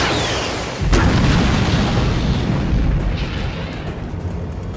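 A bomb blows up a target in an action movie: a sharp blast that opens into a loud, rumbling boom with debris and a long roaring tail, alone with no voices.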